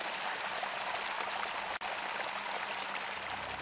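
Water rushing along a 200-metre village irrigation canal dug on a ridgeline, a steady broadband gush heard close and continuous with no voices.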